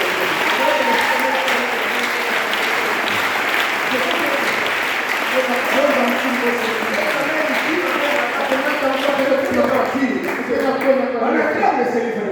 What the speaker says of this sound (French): On acclame le Seigneur plus encore.